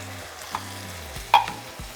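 Onion and hatch green chiles sauté in a hot pan, a steady sizzle broken by a few stirring scrapes and knocks of a utensil against the pan, close and without speech.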